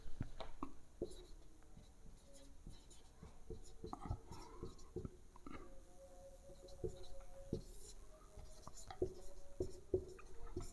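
A marker or chalk scratching across a board during a Class 10 maths trigonometry lesson, with faint irregular strokes and taps close by that come in short bursts over a quiet room hush.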